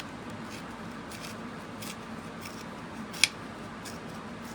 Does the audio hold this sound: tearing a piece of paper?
yes